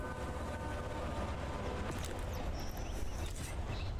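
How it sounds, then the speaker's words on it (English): A train in the game Atomic Heart rumbles steadily with a rhythmic low clatter and a few high metallic squeals and whines, a continuous mechanical din at moderate level. "Gosh, this train."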